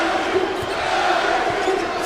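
LSU Tigers home crowd at an NIT college basketball game against UL-Lafayette, a dense, continuous roar of cheering filling the arena, with a commentator's voice running faintly underneath.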